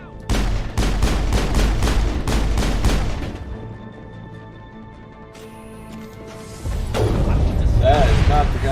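In Mass Effect, a gun fires a rapid burst of about a dozen loud shots lasting three seconds, then a lull with mechanical clicks and clanks, then more combat noise resumes.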